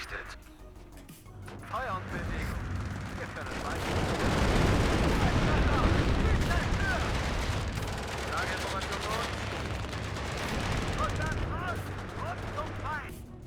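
Dense gunfire and explosions striking a tank in the Army General war game, a thick continuous barrage of rapid bangs that builds in the middle and stays loud throughout.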